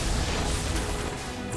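Judgment Bolt ability striking in Final Fantasy XVI, a loud dense crash of thunderous impact filling the whole moment with a rumbling burst.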